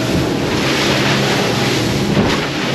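A boat motors steadily through following seas on a crossing toward Miami, a constant loud rush of wind, hull and waves with an engine drone beneath, no break in the noise.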